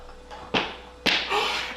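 A whip crack sound effect: two sharp, loud snapping cracks about half a second apart, each with a brief hissing tail, heard alone without talk.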